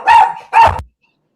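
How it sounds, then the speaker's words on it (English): A dog barks twice in quick succession, loud and close, two sharp full-bodied barks followed by silence. "The dog is doing the most, but sorry about that, y'all."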